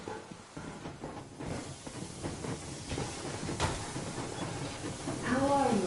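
Continuous hiss and rumble of a steam train in a video game, steady broadband noise with a faint tonal whine near the end.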